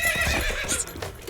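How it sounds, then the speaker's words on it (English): A horse in the Attack on Titan anime gives a high whinnying neigh with faint hoof clip-clop beneath, close and fairly loud. "Horsies! Montana's loving the horse content."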